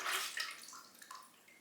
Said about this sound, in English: this tomato juice, what we've canned from last year's tomatoes, and we're just going to pour everything together